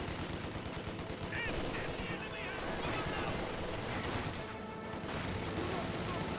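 MG42 machine-gun fire in the Company of Heroes 2 video game, heard as dense battle noise with bursts of gunfire, steady and loud throughout, with no clear talk over it.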